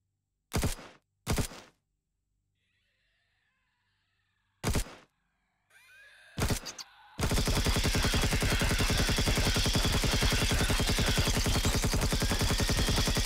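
Weapon fire in the video game Empyrion against enemies in an abandoned factory: a few sharp separate shots, then a long, loud, unbroken burst of rapid automatic fire.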